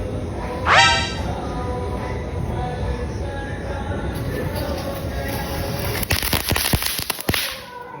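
Small chatpati firecrackers go off outdoors: a sharp whistling crack early, then a rapid cluster of loud snapping bursts near the end over steady background noise.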